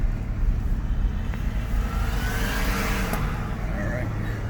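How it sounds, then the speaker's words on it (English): A car passes along a rural road, its engine and tire noise swelling and fading while the listener's vehicle idles at the roadside. Someone talks over it. "I'll pull over and let this car go by in front of me here."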